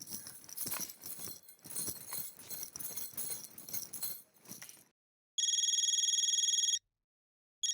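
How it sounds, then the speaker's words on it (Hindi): A telephone rings in a Hindi TV sitcom household: two bursts of electronic ringing, the first long and steady, the second just starting, following a stretch of busy background music and sound. "दया भाभी का फोन"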